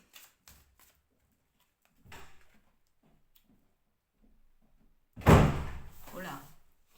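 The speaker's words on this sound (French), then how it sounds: "la porte a claqué." A bedroom door in a home slams shut once, a sudden loud thud with a short rattling decay, following a few faint scattered knocks and shuffles at lower level.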